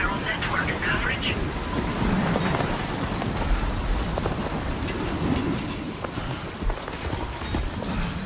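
Rainstorm in Death Stranding 2, a dense steady hiss of heavy rain with scattered crackles and low rumbling thunder, loud and continuous throughout.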